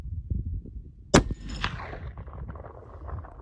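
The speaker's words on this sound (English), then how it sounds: "Very gentle recoiling gun." A lever-action rifle fires one sharp, loud crack, followed by a fading outdoor echo and a second faint report, with low rumbling handling noise before and after.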